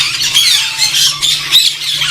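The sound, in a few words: African parrot squawking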